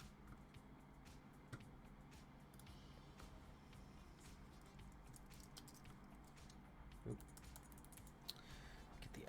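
Soft clicking of a computer keyboard being typed on in a quiet room, faint and steady with light irregular key taps over a low background hum.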